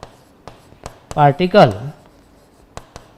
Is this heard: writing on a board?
yes